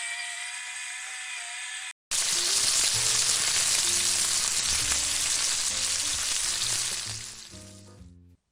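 Steak sizzles hard in a hot pan right after being flipped, a loud, dense, steady crackle that starts abruptly and holds close-up, with a few faint clinks, before easing off at the end.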